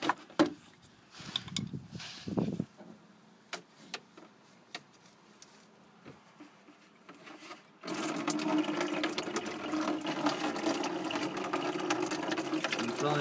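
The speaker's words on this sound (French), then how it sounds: "Là logiquement tu vides tout le radiateur, quasiment tout le circuit" Coolant drains from a car radiator with the hose pulled off, pouring into a tray underneath as a steady, continuous splashing rush after a few earlier knocks and handling sounds.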